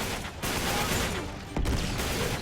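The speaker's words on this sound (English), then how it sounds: "the turret fire" Turret fire in Uncharted 3: Drake's Deception, a dense burst of rapid shots with a brief gap, then another loud cluster of gunfire close by.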